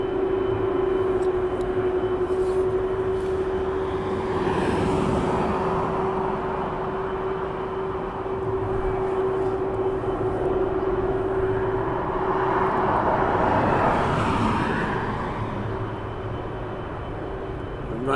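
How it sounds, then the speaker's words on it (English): Cargo jet engines run at East Midlands Airport at night as the aircraft prepares for departure, a steady loud roar with a sustained whine that swells and fades over time. "Cargo jet now getting ready for departure"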